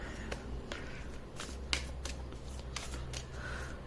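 Oracle cards shuffled by hand, a soft papery riffling with several crisp flicks and snaps, close and quiet over a low steady room hum.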